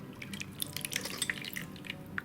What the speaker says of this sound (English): Now we're going to strain the banana syrup and let that drain for a little bit